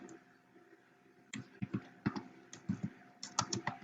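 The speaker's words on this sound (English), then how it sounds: "type in a date" Typing on a computer keyboard, a near, crisp run of individual key clicks in an uneven rhythm that starts after a quiet moment.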